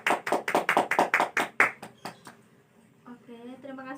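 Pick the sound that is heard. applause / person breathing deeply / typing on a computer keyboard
applause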